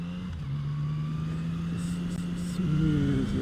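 A Yamaha MT-09 motorcycle engine pulls and rises in pitch on the road, a steady near drone that climbs sharply toward the end as it accelerates, with no talking.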